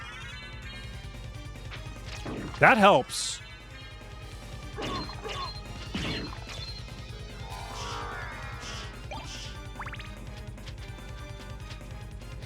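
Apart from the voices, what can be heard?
wing smash attack in video game Castlevania: Symphony of the Night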